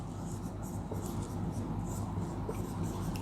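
Chalk or marker writing on a classroom board during a Sanskrit lesson, a steady scratching texture running under a constant room hum, fairly close, with faint speech in the background.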